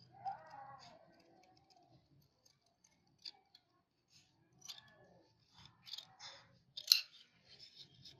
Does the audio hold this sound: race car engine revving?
no